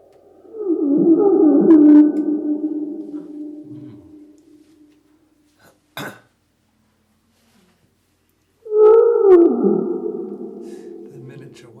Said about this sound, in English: if you slow down the sound of a budgerigar